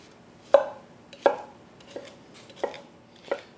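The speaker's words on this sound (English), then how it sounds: "So I have English cucumbers here, which I'm just going to roughly chop" A knife roughly chopping English cucumbers on a cutting board set on a towel: five distinct, well-spaced thuds with brief ringing, close and clear, with no talking.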